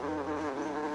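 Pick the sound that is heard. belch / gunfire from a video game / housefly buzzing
housefly buzzing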